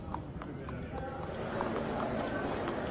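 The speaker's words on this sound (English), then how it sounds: "the horses move from the stables to beneath the grandstand" Racehorses walking from the stables through soundproof tunnels beneath a grandstand in Dubai, rhythmic hoof clip-clops echoing against a steady hum, with someone talking over them.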